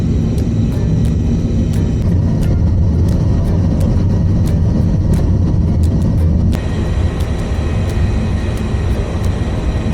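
Steady interior rumble of a taxi ride in Korea: constant low engine and road drone with faint ticking clicks, briefly shifting in tone partway through, with no talking.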